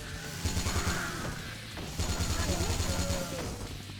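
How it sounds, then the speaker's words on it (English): Rapid machine-gun bursts from Yakuza Dead Souls, two long rattling volleys separated by a short lull, loud and close, with a voice speaking beneath the shooting. "Please stop shooting."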